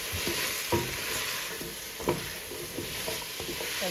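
Chicken and rice in a pot being stirred after seasoning is added, a steady sizzle with soft scraping and a few light knocks of the spoon, close and without voices.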